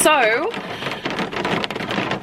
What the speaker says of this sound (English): Don't mind the rain sounds.